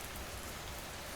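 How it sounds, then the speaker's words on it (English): Rain falling steadily, a dense, even hiss of drops pattering on a surface, continuous and fairly close with no breaks and no voices. "The rain, barely audible now"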